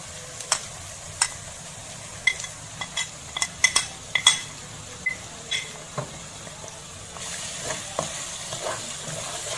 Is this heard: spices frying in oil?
yes